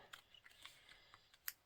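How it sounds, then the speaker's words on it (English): Scissors snip paper for a steampunk lapbook in a series of quiet, light cuts, with one sharper click near the end, faint and close. "Let me do a quick little snippy snip here"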